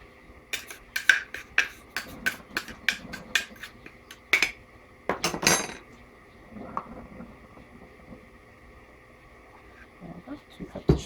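Rhythmic scraping and knocking as clumpy sugar is scooped out of its container, a series of sharp clatters with a louder burst in the middle, mixed with intermittent talking.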